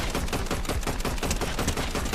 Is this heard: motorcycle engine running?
no